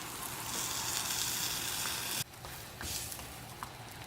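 A chicken quesadilla sizzles steadily on a Blackstone griddle, a dense continuous frying hiss close by, with a brief dip partway through.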